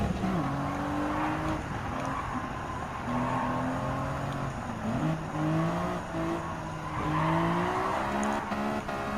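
Greddy Fugu Z race car lapping Willow Springs Raceway in Gran Turismo 7, engine droning steadily with rising and falling gear pitches throughout, loud and continuous.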